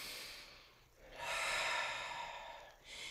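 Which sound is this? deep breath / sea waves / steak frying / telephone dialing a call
deep breath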